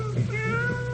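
A cat meows close by in a long, rising and falling wail, loud and alone with no voices over it.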